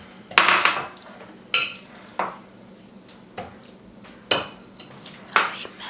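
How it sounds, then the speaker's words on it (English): Wooden spoon knocking and scraping against a bowl while eggs and sugar are mixed for banana bread, a handful of separate clacks spread irregularly over a few seconds, close and moderately loud with no talk. "I'm just going to mix that up with my wooden spoon"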